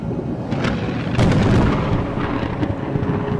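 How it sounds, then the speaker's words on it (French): Thunder rolls over a violently stormy ocean, deep rumbling and crackling booms layered on a constant roar of wind and surf, loud and close with a few sharper cracks. "une tempête particulièrement violente agite l'océan"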